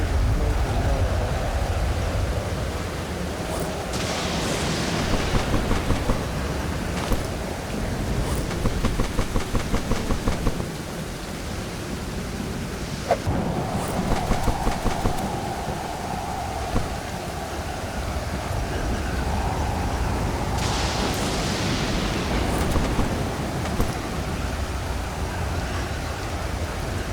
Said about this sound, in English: That storm wasn't so bad.